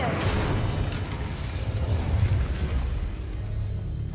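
The Incendio fire spell bursts in Hogwarts Legacy as a deep, sustained whooshing boom with a rumbling low roar that lingers steadily for several seconds.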